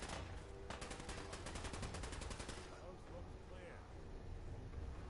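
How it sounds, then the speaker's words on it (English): Rapid automatic gunfire in Fallout 4, a fast burst of evenly spaced shots dominating the first few seconds, then thinning into scattered shots under ongoing game noise and background activity. "Fire at them. Bullets. Bullets."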